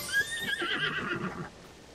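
Epona, the horse from the Zelda: Tears of the Kingdom video game, lets out a single clear whinny, rising and wavering for over a second before trailing off, close and fairly loud with no one talking.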